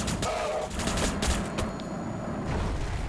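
Overwatch gunfire in the video game Warhammer 40000 Battlesector: a dense, continuous crackle of volleyed shots with scattered heavier thumps, fairly loud and unbroken.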